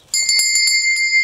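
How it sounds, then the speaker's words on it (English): A small hand bell is rung as a signal, giving a quick series of bright, ringing strikes close by with a sustained metallic shimmer between the hits. "this little bell here will be the signal"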